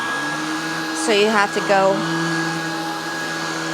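Shark Vertex vacuum cleaner runs with a steady, fairly quiet motor whine and hum throughout, while a voice speaks briefly over it midway.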